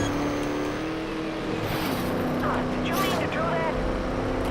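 A race car in the arcade racing game Trackmania Turbo drives with a steady engine whine and shifting revs, loud and close, with brief scraping bursts as it rubs a track edge.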